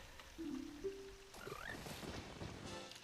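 Frogs croaking in The Legend of Zelda: Ocarina of Time after the Song of Storms is played, a pair of steady low croaks at first, then a rising tone and a denser, busier spell of game sound.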